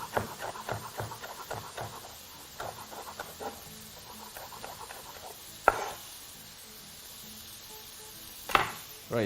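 Knife finely chopping deseeded vegetables on a board for a Mediterranean frittata, a fast run of sharp, close taps in bursts with brief pauses and a couple of louder knocks.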